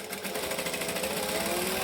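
Sewing machine stitching fabric for a boom box airliner cabin bag, a steady, fast, continuous mechanical whir with dense needle rhythm, close and loud throughout, no talk.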